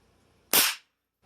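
A single sharp, loud report from an SK19 gun fires close by, a sudden blast that decays within a fraction of a second into silence.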